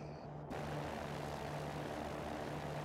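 Cirrus SR20 propeller plane engine in X-Plane 11, a steady, dense drone with a low hum that swells louder after a brief quieter start and holds constant throughout.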